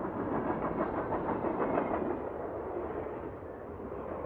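A train rolling along a railway, a steady broadband rumble with faint rhythmic clatter, close and even throughout, no voices.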